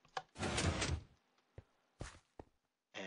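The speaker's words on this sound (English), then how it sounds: "if you hit the lever here, it opens up the secret door" A secret door in a video game map swings open after a lever is pulled, with a sliding, grinding rush followed by a few short mechanical clunks and knocks in an otherwise quiet space.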